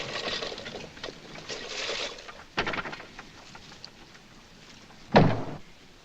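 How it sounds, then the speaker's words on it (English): A door is shut in a 1946 film scene at a village doctor's house. After muffled rustling and movement, a single sharp, fairly loud thud comes near the end, with no talk. "Shut the door."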